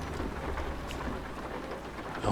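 Steady rain with low rumbling thunder in a truck driving video game, a continuous hiss of rainfall over a deep background roll, with no voices.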